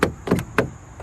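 On a high-mileage Volkswagen Touareg V10 TDI, the sticky passenger front door is tugged several times, giving four sharp latch clunks close by, the first three quick and the last after a short pause.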